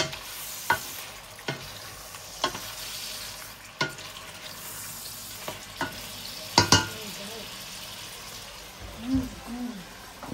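Shrimp cook in garlic butter, a steady sizzling fry with scattered sharp pops and crackles, and a voice murmurs briefly near the end.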